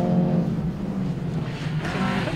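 BMW Mini rallycross cars racing at a 2021 BTRDA Rallycross Championship round, several engines droning and revving loudly together in a steady pack, close by.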